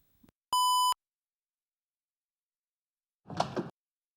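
A mobile phone gives a single steady electronic beep, a short sustained tone lasting under half a second, followed after a pause by a brief rustling thump.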